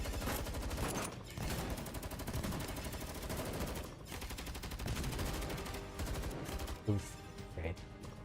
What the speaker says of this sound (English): Robella sprays a burst of bullets towards the squad of droids rushing in from outside the lab.